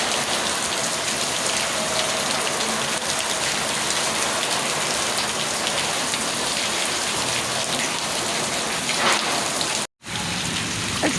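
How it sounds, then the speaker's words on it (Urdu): Heavy rain falls in front of a house, a loud steady hiss and patter of drops on surfaces, continuous and close, with a brief dropout near the end. "یہ ہو رہی ہے ہمارے گھر کے سامنے بارش"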